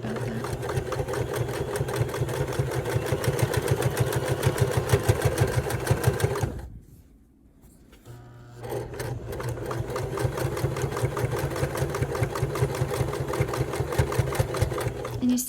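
A noisy sewing machine stitches a quilt in steady fast bursts, whirring at an even rhythm. It pauses briefly, then runs on again, close by and prominent.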